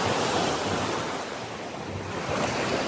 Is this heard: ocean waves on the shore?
yes